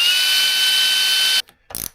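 Screws driven by a power driver into a wooden boom to fit a mainsheet attachment on a Drascombe Lugger, a steady whirring drive that stops abruptly, followed by a short burst of mechanical clicking.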